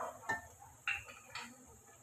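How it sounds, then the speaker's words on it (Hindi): A spoon clinks against a pan a few times while spices are stirred into beef keema; the scrapes are faint and spaced apart over a quiet background. "इसे अच्छी तरह मिक्स करते हैं।"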